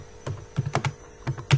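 Computer keyboard keys tapped while writing C++ code, a handful of close, crisp keystrokes in irregular clusters with short pauses between them, no voice over them.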